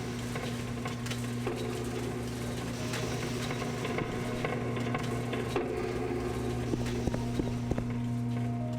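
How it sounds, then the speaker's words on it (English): Rapid footsteps from a character wearing Boots of Blinding Speed in the Tamriel Rebuilt video game, a fast steady stream of clip-clop steps over a constant droning game background. "the Boots of Blinding Speed with the footsteps sounds ridiculous"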